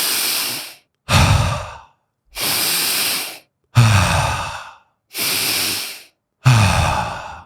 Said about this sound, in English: Inhale through your nose, belly rises.